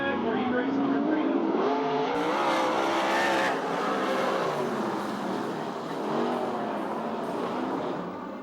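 USAC/CRA sprint cars roar together at Perris under a green flag for a heat race, a loud sustained engine drone with rising revs, a public-address voice talking over it throughout.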